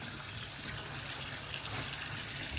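Tap water gushes steadily into a sink while fruits and vegetables are rinsed, a loud continuous close splashing rush with no pauses.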